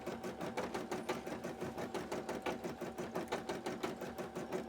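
A sewing machine chugs steadily at close range, its needle stitching in a fast, even rhythmic pulse throughout, with no voices over it.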